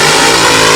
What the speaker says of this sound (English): now that the engines have come to life